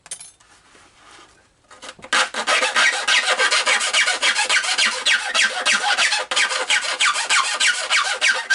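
Steady, rhythmic back-and-forth rasping of a jeweler's file on a Deans Marine SS Mellenie model ship kit part, loud and close, continuing for several seconds after a brief quiet start.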